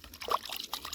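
Plant roots rinsed in water for a soilless hydroponic rooftop garden, giving a short, soft pouring and trickling splash close by.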